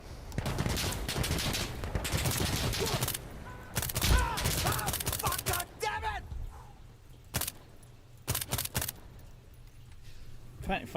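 Sharp bursts of gunfire from a gun in the shooter game Insurgency Sandstorm, clustered in quick volleys that mostly come after steady talking, loud and close over a low background rumble.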